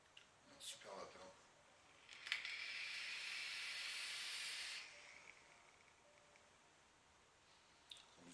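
A steady vapor hiss from an e-cigarette fitted with the Crius atomizer, drawn in one continuous pull of about two and a half seconds, fairly close and moderately loud, with faint clicks and handling noise around it.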